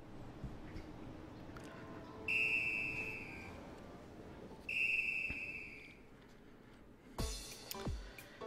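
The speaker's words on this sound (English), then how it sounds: "the whistle blows, which means it's time for Grace to get into a restaurant" A whistle blown in the video game Tokyo Crash Mobs, two steady shrill tones of about a second and a half each, separated by a short gap, over low background noise.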